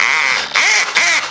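An electric drill with a hammer function runs close and loud with a whirring, rattling tone, rising and dipping in three quick revving surges.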